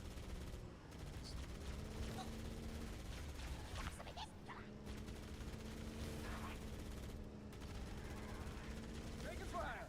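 Sustained gunfire from a Halo Campaign Evolved firefight, dense rapid shots and bursts running throughout, with game voices and tonal music layered underneath.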